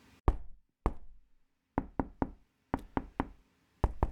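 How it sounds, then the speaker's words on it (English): Knocking on a cabin door: two single raps, then a group of three, another three and a final pair, sharp, close and clear against near silence. "He lifts his hand to the cabin door and knocks."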